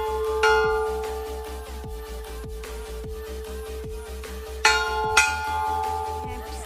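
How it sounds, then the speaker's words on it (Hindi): A temple bell at Siddha Baba shrine in Nepal struck a few times, each clang ringing out with a long sustained hum, two strikes close together near the end, over steady background noise. "तो ये है यहाँ पे घंटा,"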